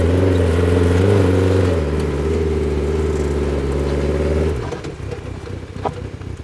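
A go-kart engine runs loud and close with a steady, harmonic drone that rises slightly in pitch, then cuts off abruptly, leaving faint rattles and movement noise.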